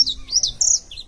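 A saffron finch (canário da terra) sings a brief, bright melodic phrase of high chirps and warbled notes, heard close and clear with no talk over it.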